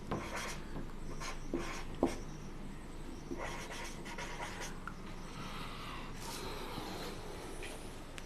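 Marker or chalk scratching across a classroom board during a Class XI mathematics lesson on set theory, in intermittent strokes and short scrawls against steady room noise, with no talking.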